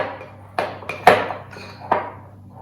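Sourdough bread ingredients being mixed in a bowl, a few distinct clinks and knocks of a utensil against the bowl, close and uneven, with quiet gaps between strokes and no talking.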